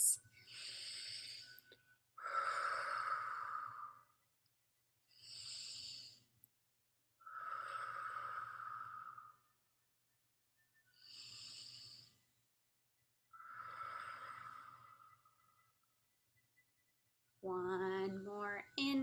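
Slow, deep breathing during a yoga session, about six long breaths in and out separated by quiet pauses, close and clearly audible, with a voice beginning to speak at the very end.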